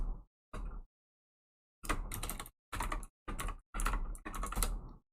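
Bursts of quick clattering keystrokes on a computer keyboard, close and fairly loud, in short irregular runs separated by brief pauses, with no talk.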